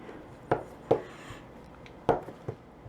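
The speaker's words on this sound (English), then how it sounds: "I'm just going to chop it up in little pieces" Sharp cheddar cheese being chopped into little pieces with a knife on a cutting board, four distinct, crisp knife strikes spaced irregularly, close and fairly quiet against a faint room background.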